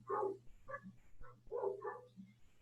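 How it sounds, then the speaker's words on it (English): Several dogs bark outdoors in a series of separate bursts, moderately close and fairly loud, over a low steady hum with no talking. "Wow, that is a lot of dog activity outside."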